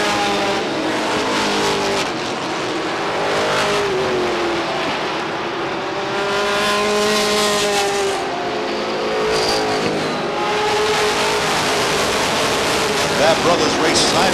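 Race cars roar around the Beech Ridge Motor Speedway oval in 1990, engines droning continuously with rising and falling pitch as the pack runs side by side into a turn, under crowd noise and a commentator's voice.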